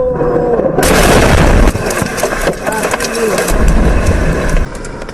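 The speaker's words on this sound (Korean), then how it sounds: "굉장히 큰 폭발인데 일단 이게 얼마나 대단한 폭발이었는지 동영상" A large daytime explosion in Moscow during a drone attack: a loud, sustained roar sets in abruptly and rumbles on close and heavy, with engine-like noise and debris impacts mixed in, no talk.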